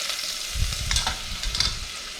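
Onions and garlic frying in a pan for a Malvani jackfruit vegetable dish, a steady close hiss of sizzling oil with a few soft stirring scrapes, no voices.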